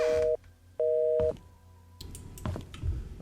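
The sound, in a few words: telephone busy tone on a fax-machine phone in Painscreek Killings video game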